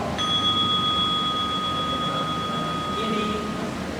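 A meditation bell, or genta, is struck softly to wake it. It gives one clear sustained ring that hangs steadily for several seconds over faint room noise.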